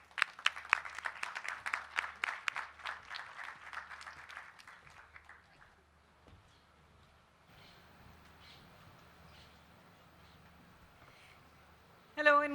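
An audience at a literature festival session applauds to welcome the speakers, a dense burst of clapping that slowly thins and fades into a quiet room, followed by the start of a voice.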